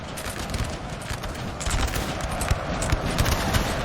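Infantry squares in Napoleon Total War fire musket volleys fast, a dense, continuous crackle of overlapping shots with thudding reports, loud and close, swelling slightly toward the end.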